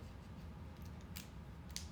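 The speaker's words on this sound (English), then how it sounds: "I get me some scissors, cut that tail" Scissors snip through a crocheted yarn tail, with a couple of crisp, quiet snips close by and a fainter one before them, against a soft room hush.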